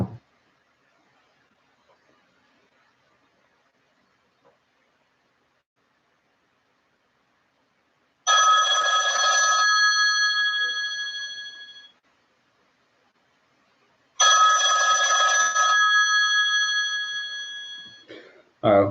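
A telephone rings with an incoming call in two long bursts of electronic trilling, each lasting about three to four seconds, loud and close. The bursts follow a quiet stretch, with no talk over the ringing.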